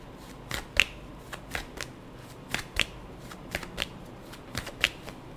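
Tarot cards being shuffled by hand, a quiet run of crisp flicks and riffling snaps in an irregular rhythm, close up with no talk.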